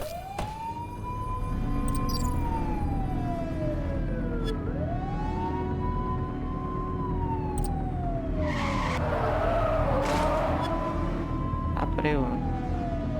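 A police car chase in the video game The Precinct: a siren wails in long rising and falling sweeps over a rumbling engine, and a burst of tire skidding breaks in partway through.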